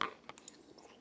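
A faint, soft chewing of a bite of homemade meatball dunked in sauce, with a few quiet wet squishes after an initial bite, close to the mouth.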